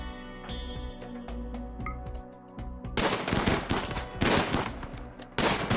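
Bursts of gunfire during a shooting fight in the video game RimWorld, with rapid cracks and automatic volleys crowding together over a low game music bed, loud and dense with no talk.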